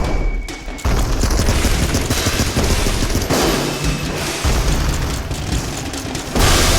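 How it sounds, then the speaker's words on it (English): Dense, loud explosions and rapid gunfire from the video game Ape Out, a near-continuous barrage of booms and bursts that fills the whole stretch with almost no break. "that guy blew up"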